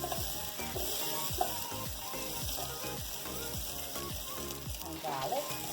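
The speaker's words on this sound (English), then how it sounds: "So in goes my onions" Onions fry in a small amount of oil with a continuous crackling sizzle, close by, with stirring scrapes and pops and a faint tonal hum beneath.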